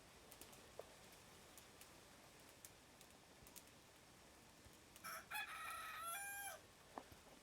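A rooster crows once in the farming game Clanfolk, a faint and slightly distant call rising over a soft rain-like hiss with scattered light clicks.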